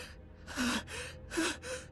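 Two sharp gasps for air from a character in a video game cutscene, each a short, loud intake of breath separated by a quieter pause, close and alone without speech.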